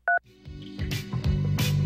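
A single short two-tone beep from a phone keypad button press on a helpline menu, loud and clean, followed by music starting up.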